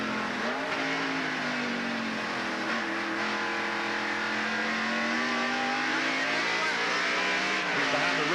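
Oldsmobile and other NASCAR stock cars racing at Sonoma Raceway in the 1989 Banquet Frozen Foods 300, their engines roaring loudly and rising and falling in pitch as they rev through the corners.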